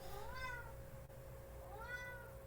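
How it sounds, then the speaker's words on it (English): Pet cat meowing twice, two drawn-out rising-and-falling meows spaced about a second and a half apart, faint against a steady low background hum. "Got my cat here."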